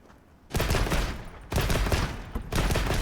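Three loud bursts of rapid chain fire from a light bowgun in Monster Hunter Wilds, coming at roughly one-second intervals after a quiet start, each a dense crackling volley.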